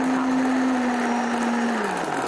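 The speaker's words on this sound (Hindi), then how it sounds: "आपका ब्लेंडर जितना अच्छा होगा उतना ही आपका जो शरबत है वो बहुत अच्छा बनेगा" A blender whirs steadily as it blends fruit into a sharbat drink, a loud close motor whine that drops slightly in pitch toward the end, with no talking.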